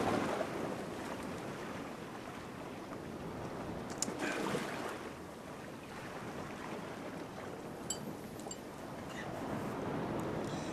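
Ocean waves wash and surge in a steady roar, with gusty wind buffeting the microphone; the sound rises and falls gently throughout with no voices.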